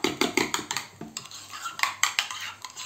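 Spoon stirring a mayonnaise and ketchup sauce in a bowl for a homemade burger: a quick run of scraping clinks against the dish, close and steady, with a short pause midway and no talk.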